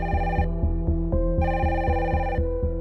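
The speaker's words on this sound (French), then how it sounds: "Il est 19h40 lorsque le téléphone sonne au siège de la police judiciaire." A telephone rings at a police headquarters in bursts of bright electronic tone, over a pulsing rhythmic pattern that repeats steadily and loudly throughout.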